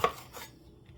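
A knife slicing a potato for a potato and tomato soup with meat, a single sharp close cut against a board that fades quickly into quiet.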